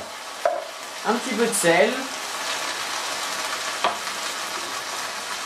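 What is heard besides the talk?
tomato pulp sizzling with onions in a pan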